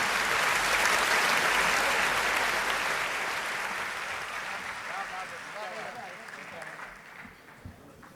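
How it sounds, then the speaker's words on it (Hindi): An audience at a poetry recital claps loudly to welcome a poet to the stage, dense applause that gradually thins and fades over several seconds. "इसलिए जोरदार तालियों के साथ उसका स्वागत करिए"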